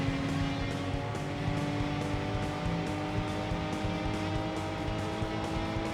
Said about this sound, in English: We have 75 horsepower, only 4 gears, but it's still not a very fast car